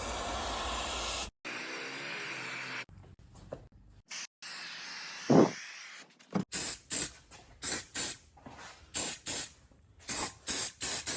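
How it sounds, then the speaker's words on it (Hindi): AEROL multipurpose silicone spray is hissing onto a door and its rubber seal in a string of bursts: a long spray, a brief clearer puff, then a rapid series of short blasts close up with no voices. "एक इस साइड स्प्रे करनी है।"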